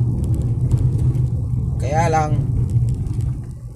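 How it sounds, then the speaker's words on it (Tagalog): Large vehicles rumble steadily past on a road, a continuous low traffic drone beneath someone talking throughout. "puro malaking sasakyan"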